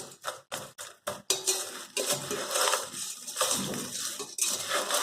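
A utensil clinks and scrapes against a bowl while stirring chow chow namkeen mixture, first as several sharp separate knocks, then as a steady rattling, crunchy churn of the dry snack mix, close and fairly loud.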